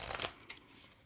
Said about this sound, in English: And I'm gonna do some shuffling for you